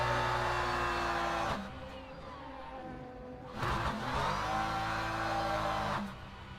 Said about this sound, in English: Do some burnouts.